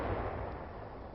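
Distant howitzer fire rolls in as a dull, muffled boom that fades out over about a second, faint and heavy with no voices.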